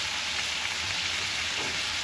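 Pork belly chicharrones sizzle in a pan over a pecan wood fire, a dense, steady, close crackle with no voices.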